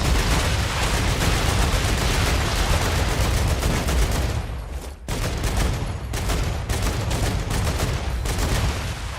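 Dense, rapid bursts of gunfire from a weapon in the video game Star Rupture, loud and continuous with a brief gap midway before the shooting resumes.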